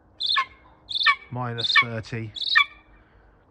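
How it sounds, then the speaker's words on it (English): A golden eagle gives four sharp, high squawking calls at a steady pace, close and clear, with a voice speaking briefly between the calls. "Golden eagle."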